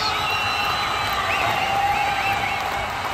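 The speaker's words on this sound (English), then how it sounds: "the crowd is still standing ovation. They are still applauding away there." A large crowd cheers and applauds continuously at the final whistle of a match, a dense roar of clapping and shouts with occasional whoops rising above it.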